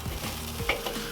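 Ribs cooking over direct heat on a Weber kettle grill sizzle and crackle steadily as they are flipped, with a few scraping and clanking touches of the tongs close by and no voices.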